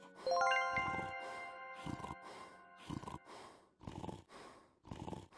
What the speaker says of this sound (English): from the snoring, I guessed he'd only fainted